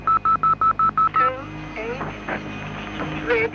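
Touch-tone dialing on a public phone box: about eight crisp, evenly spaced beeps in quick succession, followed by line tones and chirps as the call connects, with a voice talking over the later part.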